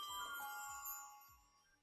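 A bell chime sound effect rings out on a livestream, one bright, sustained tone with shimmering overtones that fades gradually over about two seconds, with no talk over it.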